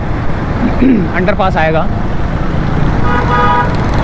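Car horns toot in a jammed Karachi road near the Clifton underpass heading toward Sea View, two bursts of honking over a constant traffic rumble while someone talks close by.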